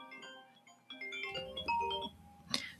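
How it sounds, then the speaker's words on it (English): A mobile phone ringtone plays a short melodic run of bright electronic tones, moderately loud and alone, ending in a sharper burst. "Sorry, my phone was ringing."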